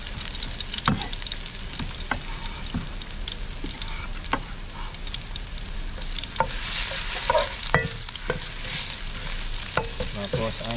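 Ingredients frying in a pan with a sauce, sizzling steadily while a utensil scrapes and taps at irregular intervals, close and moderately loud, no voices.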